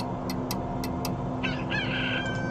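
A rooster crows in a continuous stretch over steady background hum, preceded by a few sharp high clicks.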